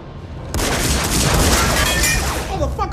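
Gunfire from police shooting in a hospital scene of the movie Blade erupts suddenly as a loud, dense barrage of rapid shots that continues without letup.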